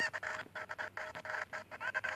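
Cuccos, the chickens of the video game Zelda: Ocarina of Time, cluck and squawk in a rapid run of short bursts, loud and close, with no talking.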